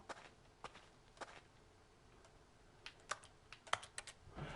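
Scattered keyboard taps click in a game office setting in The Stanley Parable, quiet and irregular at first, then bunching into quicker bursts of typing toward the end, with no voices.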